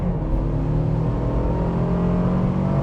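A 2026 Toyota 4Runner's 2.4-liter engine with an 8-speed automatic pulls under relaxed acceleration, giving a steady, loud drone with a low rumble and layered harmonic whine that holds on throughout, with no voices.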